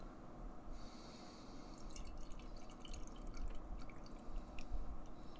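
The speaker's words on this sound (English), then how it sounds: "let's pour this guy and see what this thing's all about" Pontoon Brewing Rainbow Smiggles beer is poured into a glass, a quiet close liquid trickle and gurgle that builds with faint fizzing and dripping, soft and without speech.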